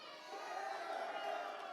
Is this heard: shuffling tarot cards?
no